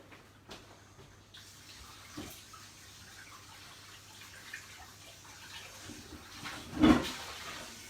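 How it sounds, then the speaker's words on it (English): A kitchen tap runs while hands are washed, with soft, uneven splashing and trickling that swells into a brief louder gush near the end, heard from a short distance in a quiet room. "I'm going to go and wash my hands"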